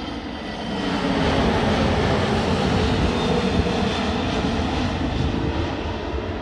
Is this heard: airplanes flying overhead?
yes